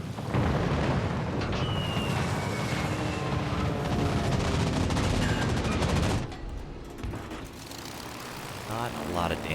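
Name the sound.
naval gunfire in the video game World of Warships Legends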